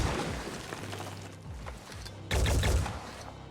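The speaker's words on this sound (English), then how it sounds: "Okay, Overwatch fire coming in." Overwatch gunfire in the Phoenix Point tactical game, a dense crackle of rapid shots with bursts throughout and a louder, fuller volley erupting in the last second.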